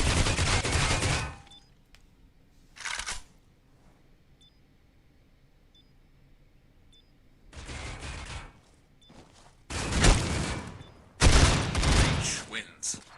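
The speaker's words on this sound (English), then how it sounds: "Pretzels firing shots down from heaven" Bursts of gunfire from the tactical shooter Critical Ops during a tournament semi-final match, several loud volleys of shots at irregular intervals with quiet stretches and faint beeps between.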